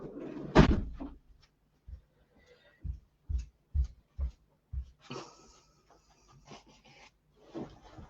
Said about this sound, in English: Just going to shut this door